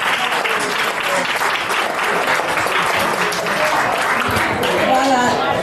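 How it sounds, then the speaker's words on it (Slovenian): An audience at a village celebration in Kapele claps in steady, dense applause for several seconds, loud and close throughout. "predlagam, da je malo zaploskam"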